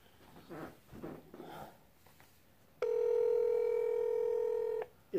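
Telephone keypad tones beep steadily for about two seconds as a call is placed, loud and clear after a stretch of quiet murmuring voices in a room.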